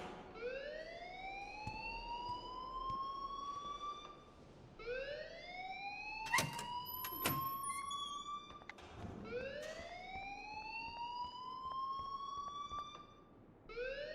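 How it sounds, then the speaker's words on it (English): Alarm siren in the game Life is Strange, a rising wail that repeats about every four seconds, with sharp clanking noises between cycles, steady and fairly faint. "please turn off that alarm since that's your job"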